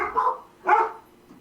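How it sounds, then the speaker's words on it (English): Two short dog barks, a second apart, mid-distance and moderately loud, with a quiet pause after. "My damn dogs won't shut up."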